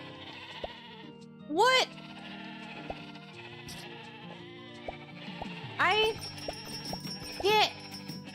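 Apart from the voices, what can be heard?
sheep bleating in the video game Discounty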